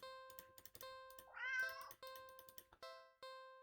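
A cat meows once, clear and mid-length, in the video game Do Not Take This Cat Home, over ringing game music tones and sparse clicks.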